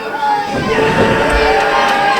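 Crowd at a live wrestling event in Philadelphia, a sustained roar of cheering from a large audience filling the arena, loud and continuous with no break.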